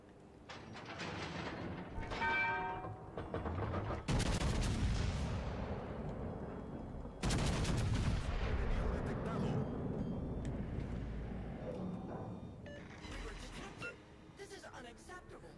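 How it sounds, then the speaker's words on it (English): Tirpitz battleship firing high-explosive shells in the naval video game World of Warships: Legends, heavy booming salvos with long rumbling decay, loud and repeated across the scene over game sounds. "This Tirpitz shooting HE?"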